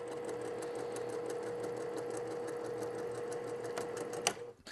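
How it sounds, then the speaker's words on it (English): A sewing machine runs a steady, continuous stitch through quilt pieces for a tumbling blocks quilt at a quarter-inch seam allowance, with a constant motor whir and fast needle rhythm, then a brief clunk as it stops near the end. "We're going to sew with an accurate 1/4 inch seam allowance through there."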